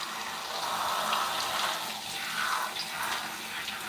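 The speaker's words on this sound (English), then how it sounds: "Now I love to see the water run a lot cleaner" Water runs steadily from a tap, splashing and hissing as hair is rinsed on a wash day, a continuous close wash of sound with no voices.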